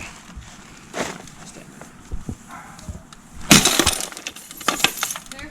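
Glass from an old TV breaking and clinking, heard as scattered sharp clinks and taps followed by a louder crash of shattering glass with tinkling pieces trailing after.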